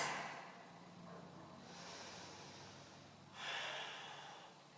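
Slow audible breaths during a beginners' yoga forward fold, a long exhale fading, then a sharper inhale, close and quiet with no talking.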